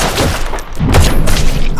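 Gunfire crackles through a loud action-film shootout between gangsters with pistols, a dense continuous burst of shots and booms with no clear gaps between them.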